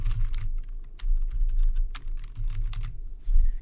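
Steady typing on a computer keyboard while entering a name into an email form, with rapid close keystrokes in uneven bursts and brief pauses, with no talking.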